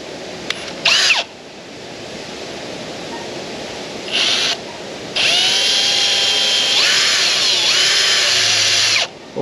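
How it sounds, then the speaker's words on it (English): Power drill fitted with left-hand drill bits boring out a broken stud in a workshop, whining in several bursts of rising and falling pitch, with one long sustained run in the middle and short pauses between. "So at the moment I've got my left hand set of drills, so we go the other way,"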